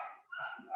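House dogs, which chase birds that get indoors, give a short, sharp bark or yelp. It comes close by, lasts under a second, and dips briefly in the middle.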